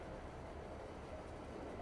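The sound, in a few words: train moving in video game Farming Simulator 22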